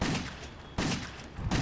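Rapid gunfire from the PS3 shooter Wet comes in two dense, loud bursts of rattling shots, close and continuous, split by a brief gap.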